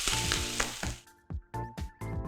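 Butter sizzles loudly in a pan with salmon fillets being made into grilled salmon with lemon sauce. The hiss is close and broken by a few sudden short dips, and no voices are heard.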